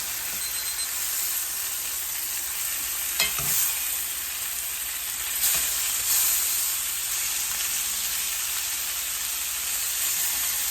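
Pork chops fry in a pan with a constant bright sizzle and crackle that holds steady for several seconds, broken by a couple of brief clunks of utensils; no talking.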